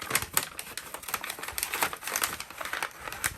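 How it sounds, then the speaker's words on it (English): Tape is pulled off and pressed down onto a paper-wrapped book in a rapid series of crisp crinkling, tapping bursts, close and fairly loud, with no talking. "And then we're just going to tape this right here."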